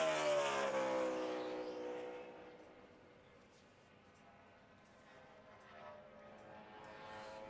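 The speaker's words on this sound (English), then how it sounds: "you can see it right there as Clint Boyer in his 33 car comes through there to take the green flag" NASCAR race car, Clint Bowyer's No. 33, roaring past during 2010 qualifying for the Gillette Fusion ProGlide 500, starting loud and close with a falling engine pitch as it passes, then fading to a distant drone before another car's engine rises faintly.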